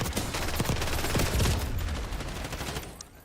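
Rapid gunfire and heavy grenade blasts crash together in a chaotic video game firefight, dense and loud throughout with booming low thuds around the middle, tailing off slightly at the end.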